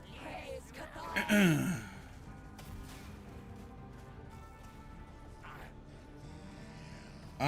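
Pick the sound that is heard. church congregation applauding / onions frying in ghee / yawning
yawning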